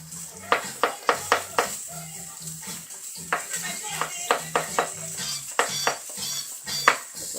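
Potatoes in a little oil in a pan for a steak and mushroom potato crostini dish, with repeated sharp clatters of a utensil stirring and scraping against the pan over a low sizzle, close and fairly loud.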